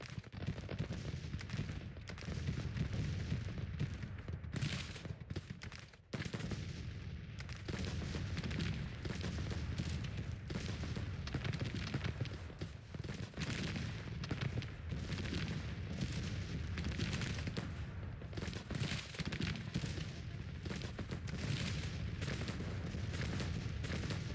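Civil War cannon artillery in the strategy game Grand Tactician rumbles continuously, with dense overlapping booms and crackling volleys from a large battle, loud and unbroken apart from a brief dip early on, with no talk over it.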